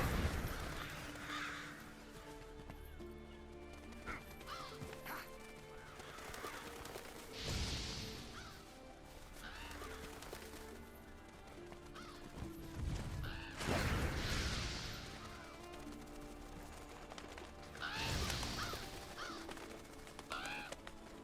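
Crow-like Revoltures cawing in Monster Hunter World: Iceborne's Witcher 3 side quest, harsh repeated calls bursting out in several loud clusters over a steady game ambience and music bed, with occasional whooshing flaps.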